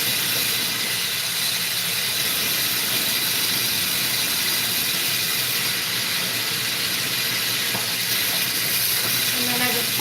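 Steady roaring hiss of a glassblowing torch flame heating a reverse axis wigwag glass pipe, loud and continuous with no break, with a few faint clinks in the background.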